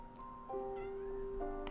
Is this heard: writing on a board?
no